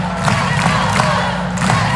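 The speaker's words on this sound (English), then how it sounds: "And there's a lot of chanting in the crowd. And mostly it's a "Let's Go Bows" that we are hearing." Volleyball fans in the Thunderdome at a Hawaii Rainbow Warriors match against UC Santa Barbara keep up a loud, dense crowd roar with rhythmic chanting of "Let's Go Bows" and shouts rising through it.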